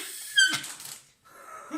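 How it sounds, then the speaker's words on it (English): Ellie the dog outside working a squeaky ball toy, a couple of sharp high squeaks followed by softer rubbery squeezes and a pause, heard from a distance indoors. "She's having a fucking squeak off. We've got Ellie outside squeaking that ball."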